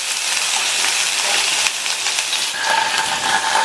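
Finely chopped onions sizzling in hot oil in a pan, a steady bright hiss throughout, close and loud with no talk.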